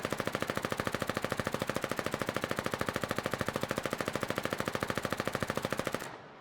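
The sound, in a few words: Fiddler SMG firing at full blast in Foxhole video game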